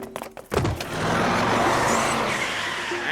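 A car roars off at speed with a loud burst and screeching tires, then a sustained, close engine rush.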